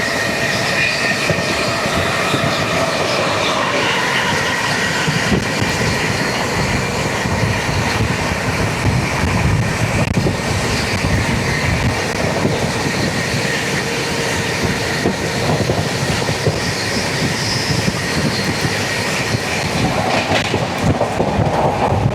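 The Sampark Kranti express, running from Chandigarh to Kerala at about 130 km/h, fills the air with a loud, unbroken rush of wheel and track roar and rattling carriages, heard from on board without pause.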